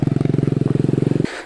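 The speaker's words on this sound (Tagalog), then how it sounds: "Medyo okay na yung motor natin. Nakaakyat na siya." Motorcycle engine pulling hard up a hill, a loud, close, rapidly pulsing exhaust note that cuts off abruptly near the end, leaving wind noise.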